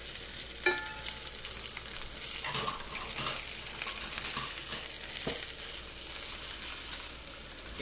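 Chicken thighs sizzling and frying in a hot pan, a steady close crackle with occasional pops and clinks of tongs or utensils against the pan.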